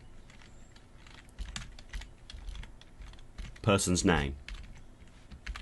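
Keys clack on a computer keyboard in scattered taps, soft and close, while a person speaks briefly partway through.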